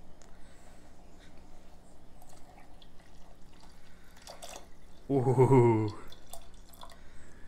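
Milk splashes into a cup of tea in one short, bright gurgling pour, close and fairly loud, after a quiet stretch of small clinks and drips; a voice gives a brief exclamation.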